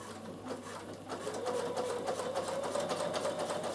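Bernina sewing machine fitted with a walking foot, top stitching laminated cotton at a slow, even pace; a steady close mechanical whir runs continuously after a brief start, with no talking over it.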